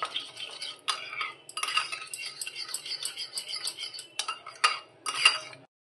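A whisk or spoon beats a mixture with salt and sugar in a bowl, making quick scraping clinks in uneven bursts, close and fairly quiet, with brief pauses before the sound stops.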